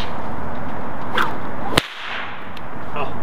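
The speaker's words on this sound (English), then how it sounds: "Never thought I'd get that kind of noise out of a little whip like that." A small whip cracks once, sharp and loud, with a fainter swish just before it and quiet room noise around it.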